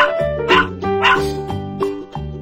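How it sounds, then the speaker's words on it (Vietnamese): A puppy barks and yips in a quick series of sharp, close, high-pitched calls with short gaps between them, heard alone without speech. "Puppy. Puppy."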